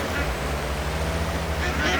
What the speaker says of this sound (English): Look at all the ducks. Look at them all.